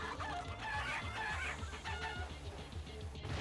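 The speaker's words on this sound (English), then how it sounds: "Cortex's chicken house, now there's going to be birds" Chickens cluck steadily in Cortex's chicken house in the Crash Twinsanity video game, busy repeated clucks and fowl calls layered with game sounds, moderately loud and continuous with no talk.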